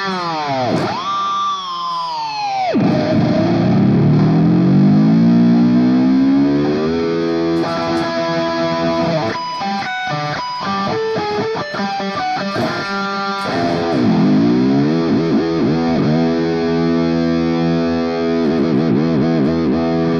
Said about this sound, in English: I hit that low E string to give it a little bit of power to make that dive bomb sound